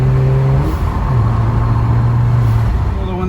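A BMW 335i with a cheap blow-off valve mod driving, its engine a loud, steady low drone with a shifting pitch and broadband road and intake noise throughout.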